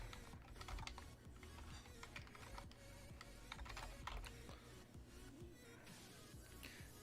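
Quiet, fast clicking of computer keyboard keys in irregular bursts, faint and close, with no voice over it.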